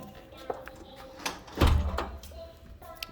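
A security screen door on a tile-floored house opens as someone walks in, giving a clattering metallic burst with a low thump in the middle, amid scattered knocks and handling noise and some voices nearby.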